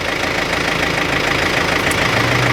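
Up close, a Ford 2N tractor with a cultivator hitched runs loud and steady, its engine chugging with a slight knock and a small shift in tone near the end.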